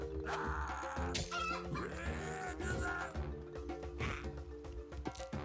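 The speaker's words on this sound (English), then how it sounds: "We see the 3 chickens right here" Chickens cluck and squawk in a claymation strategy roguelike video game, busy overlapping fowl calls running continuously over game music and ambience, with no one speaking.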